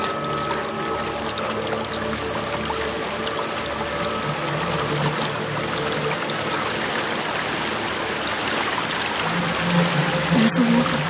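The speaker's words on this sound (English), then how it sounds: "There's a waterfall." Continuous rushing waterfall in the dark fantasy game Hellblade: Senua's Sacrifice, a steady broadband roar of falling water running throughout at an even, moderately close level with a brief louder swell near the end.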